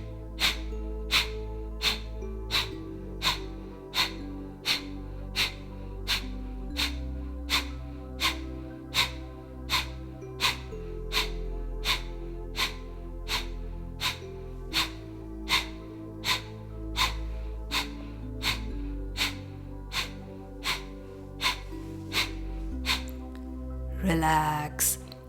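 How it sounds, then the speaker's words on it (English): Kapalbhati yoga breathing during a power yoga session: a long, steady train of short, forceful nasal exhalations, about one per second, over soft background music, ending with a deeper breath. "are you ready for Kapalbhati? Let's begin."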